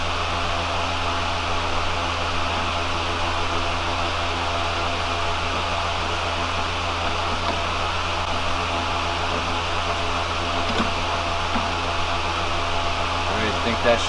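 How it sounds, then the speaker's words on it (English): An electric fan hums steadily and unbroken inside a hot garage with no air conditioning, a constant broadband whir at moderate level from start to finish with no talking over it. "sorry for that humming in the background, there's a fan"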